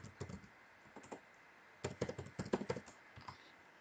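Someone types on a computer keyboard, entering data into a spreadsheet form: a short burst of clicks, a pause, then a quicker run of close, crisp keystrokes.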